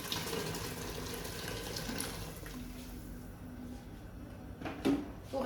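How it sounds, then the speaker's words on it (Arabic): Water poured into a pot while cooking harira soup, a steady splashing stream running loud for several seconds before tapering off, with a small clunk near the end. "وغادي ندير الماء"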